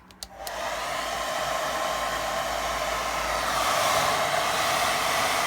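A hair dryer runs on gentle power to dry a freshly painted watercolour sky, clicking on and then holding a steady, close, broadband whoosh with no talking over it.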